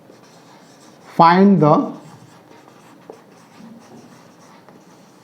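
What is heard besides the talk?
writing out a circle area problem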